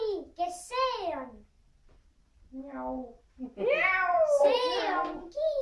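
A kitten named Kiisu meows several times in drawn-out, wavering calls, close and fairly loud, with a short quiet gap in the middle followed by a longer run of overlapping meows.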